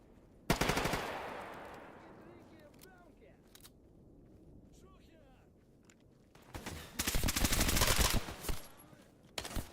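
Automatic gunfire in the video game STALKER GAMMA: one sharp burst rings out, then a quieter stretch follows, and a sustained rapid volley of loud shots erupts toward the end.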